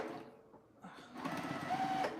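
A sewing machine stitching quilt pieces for a table runner, a near, steady mechanical whir that starts softly, pauses briefly, then runs louder toward the end, with no talking.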